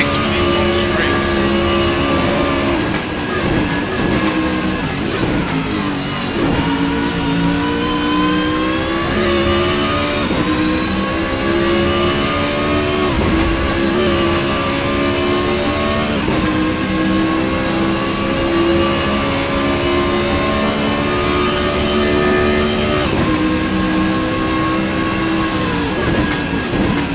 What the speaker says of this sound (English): That Nissan's got plenty of legs for these long straights.